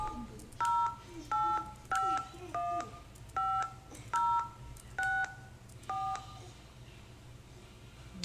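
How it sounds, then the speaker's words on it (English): Skype dial-pad tones sound as eight or nine short, evenly paced beeps at shifting pitches, each distinct and loud over a quiet room hum. "Let's attempt to make a call."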